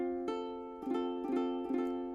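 A ukulele note fretted at the first fret of the E string is plucked four times in a row, soft and close, each note ringing briefly into the next.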